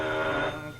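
A 1930s telephone bell rings steadily and insistently in a newspaper office, one continuous ring filling the short moment with no voices over it.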